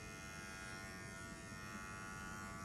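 Electric clippers shaving fur from an animal's hock give a continuous close buzzing hum, steady and even throughout, with no voices.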